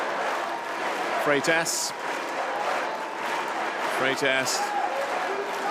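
Cheering and applause from an arena crowd at a men's water polo match between Hungary and Brazil in Budapest, a steady roar that runs the whole time while a commentator talks over it.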